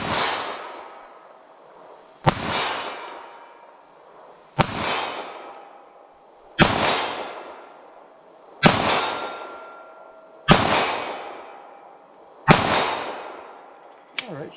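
An M&P Shield EZ pistol firing .380 ACP rounds outdoors in slow fire: seven loud, sharp reports about two seconds apart, each with a ringing decay, alone with no talking.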